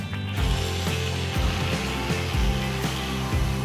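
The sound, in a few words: Oral-B electric toothbrush running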